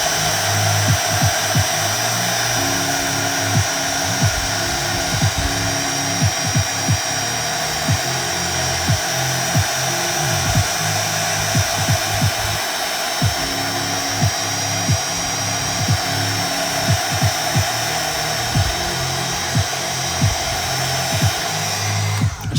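Hair dryer blowing over a watercolor sky painting, a loud, steady motor whine and rushing air that runs throughout, with faint fluctuations as it moves across the paper.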